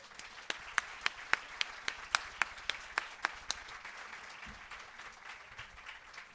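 An audience at a book festival gives a speaker crisp, scattered applause as she comes on stage. The separate claps are close and distinct, then taper into faint, thinning clapping.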